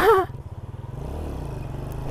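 A Yamaha Vega R motorcycle with a newly fitted FR80 clutch lining revs, a loud close engine throb that pulses in quick repeated surges, then settles into a steady, fast idle-like drone.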